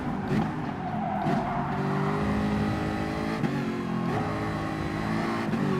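Jaguar F-Type Group 4 race car engine in Gran Turismo Sport at Spa-Francorchamps, drafting behind another car: a steady, loud, sustained engine drone with a couple of brief pitch shifts, no talking.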